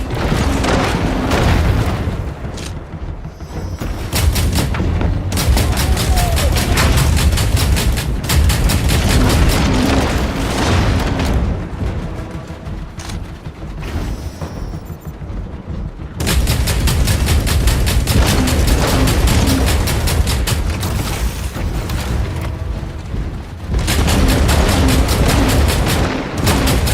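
Dense, continuous gunfire and heavy grenade-launcher explosions in the mech combat game Hawken, with loud repeated booms and rapid shots filling the whole stretch, briefly thinning around the middle before resuming at full intensity.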